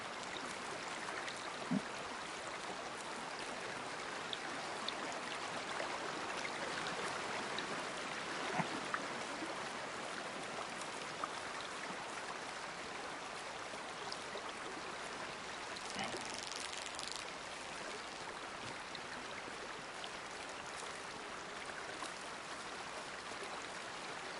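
Shallow creek water in a hunting video game flows and trickles continuously, a steady, close wash of babbling water with no voices over it.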